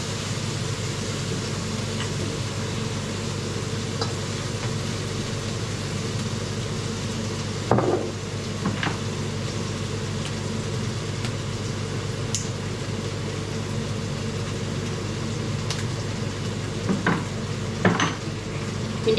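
Food sizzles and is stirred in a pan over steady frying noise, with a few clanks of a utensil against cookware near the middle and end.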